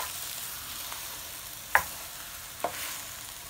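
Eggs sizzle in a pan for an omelet scramble, a steady soft frying hiss with a couple of brief scraping stirs from a utensil, close and with no talking.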